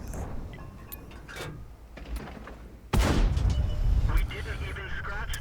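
A tank's main gun firing in World of Tanks, a sudden loud boom partway through that cuts off quieter battle rumble and is followed by a sustained roaring rumble and clanks, with a voice talking alongside.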